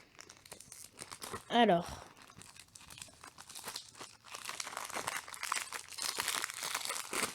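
Crinkling plastic wrap torn off a Moyu Tanglong speed cube, with a sharp crunchy burst early on followed by steady nearby rustling and crackling, while a person speaks briefly at the start.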